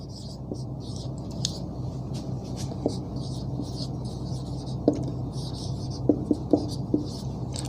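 Marker or chalk scratching across a classroom board as a teacher writes out a reasoning lesson, a soft continuous scraping with faint tapping strokes under a low room hum.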